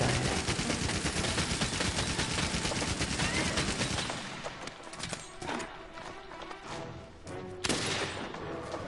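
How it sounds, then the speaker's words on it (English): A Gatling gun in a monster-hunting video game fires a dense, rapid stream of loud shots, then drops to scattered bursts and thuds with a final loud burst near the end. "With a bunch of lead bullets from my Gatling gun"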